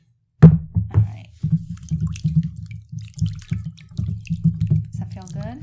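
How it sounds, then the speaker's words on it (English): Warm water splashing and trickling over hair during a rinse at a haircut, a steady close wet patter with brief drips, while a person talks softly over it. "The nice warm water feels good too. All right, so one more rinse."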